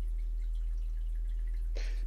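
A cartoon water drop falls onto a face, heard as a single crisp drip plink near the end after a steady low hum, close and distinct, with no voices.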